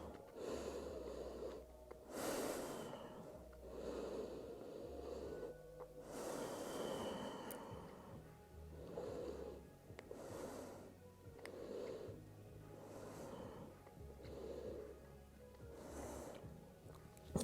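Deep, slow breathing during a yoga session, several long inhales and exhales repeating in an even rhythm, quiet and close, with no talk.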